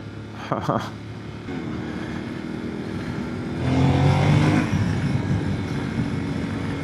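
Yamaha Tenere 700 2025 twin-cylinder motorcycle engine braking on the road: a steady engine drone with wind noise, swelling briefly into a louder, throatier rumble, with a voice speaking over it near the start.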